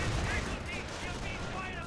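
Sustained gunfire rakes an MP40-armed infantry squad in the World War II strategy game Company of Heroes, a dense, steady rattle with no pauses or distinct single shots, filling the whole moment.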